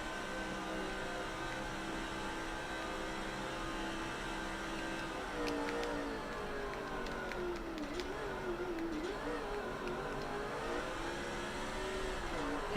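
Stock cars racing around Texas in NASCAR 06, a steady engine drone whose pitch rises and falls as the pack accelerates through the laps, continuous and fairly close over a low hum.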